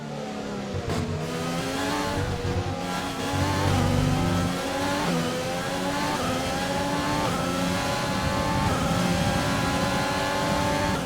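F1 cars in F1 2020 race through the 130R corner at Suzuka, engines whining and revving through rising gear sweeps, loud and close, with several upshift steps and no voices.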